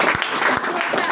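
A church congregation claps and cheers in a brief, dense burst of applause with voices mixed in, loud and filling the room.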